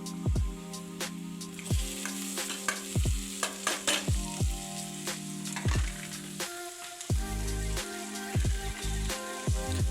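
Tempering (tadka) for potato kadhi sizzling in hot oil in a home kitchen, a steady close fry hiss broken by repeated sharp scraping stirs of a utensil against the pan.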